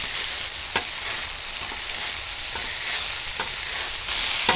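Chopped bacon and onion sizzle steadily in a pan, with a few sharp scrapes of stirring cutting through the constant frying hiss.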